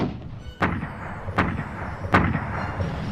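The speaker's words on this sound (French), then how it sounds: "Ils vont être la cible d'un bombardement précis de l'artillerie de Bradley." Three heavy artillery booms land at roughly even intervals over a low rumbling background, each a sharp blast with a short rolling tail, in a wartime bombardment of German armoured columns near Bastogne.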